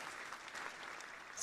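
A canned applause sound effect plays during a live show, a short, steady wash of clapping at low volume with no voices over it.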